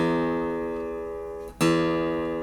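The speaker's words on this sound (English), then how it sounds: "you need to tighten the string, listen to that pitch go up" A guitar's low E string rings steadily and then jumps upward in pitch as the tuning peg tightens it, one sustained, bright, close note that briefly dips before settling higher.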